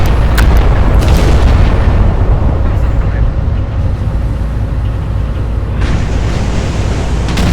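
Naval guns fire and shells burst in the Battleship Command video game, heavy booms rolling over a constant loud roar of ocean and battle noise, with a voice briefly calling out in the clip.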